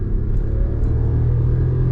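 A Volkswagen Polo Track with a naturally aspirated 1.0 engine pulls in second gear, its steady low engine rumble and drone continuous and close, heard from inside the car with no talking.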